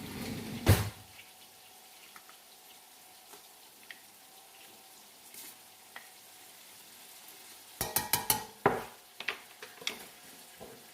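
Cornstarch is stirred into corn chowder in a pot, with faint scattered clinks and scrapes, then a cluster of sharper spoon knocks against the pot near the end, close and alone without talk.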